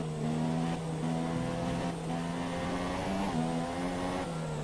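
Racing car engine in the F1 2017 game at the Spa circuit, a steady loud engine drone with stable harmonic tones and slight pitch shifts, heard throughout without talk.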